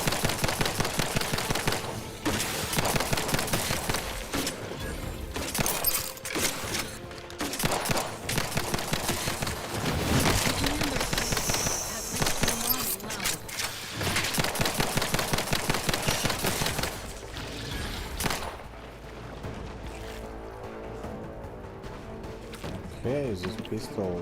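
Rapid pistol gunfire from The Outer Worlds 2, shots fired in fast repeated bursts that run almost continuously, loud and close, with a voice talking over parts of it.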